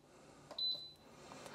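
A single short electronic beep from a slow cooker's control panel button, faint against quiet room tone.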